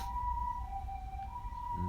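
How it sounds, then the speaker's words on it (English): An ambulance siren wails steadily in the distance on a street, a sustained two-tone whine that shifts pitch briefly near the end. "朝っぱらから救急車か。"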